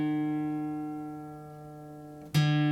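A guitar D string rings while being tuned down: a sustained plucked note slowly decays and droops in pitch, then is plucked again sharply near the end, clear and close with no talking.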